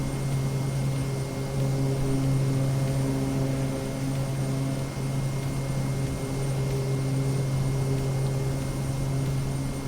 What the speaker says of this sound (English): My plane's moving.